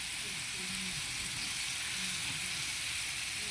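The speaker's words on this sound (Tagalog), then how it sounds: "Ginisang gulay." Vegetables sauté in a pan with squash, bitter gourd, string beans and meat, a loud, unbroken sizzle and hiss throughout, with a voice faintly audible beneath.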